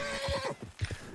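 A video game horse gives a short whinny followed by a few clopping hoof steps, fairly faint and close.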